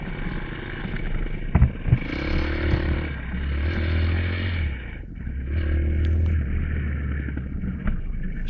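Motorcycles on a group road ride, engines droning steadily with rising and falling passes and heavy wind rush over the microphone, no talk.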